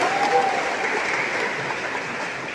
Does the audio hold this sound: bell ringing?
no